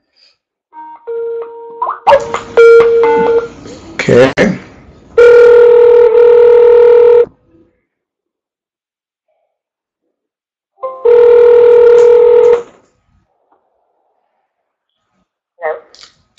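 An outgoing phone call: a quick run of keypad dialing tones, then steady electronic ringback tones in two separate bursts with quiet gaps between. A voice speaks briefly near the start.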